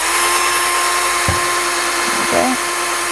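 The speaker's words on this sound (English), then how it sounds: "And then continue drilling to bring it back up." A power drill bores through a shoe heel during shoemaking, with a short whir and grinding bite against a steady background hum.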